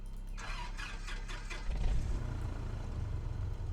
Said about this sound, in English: Okay, we're ready to start the engines.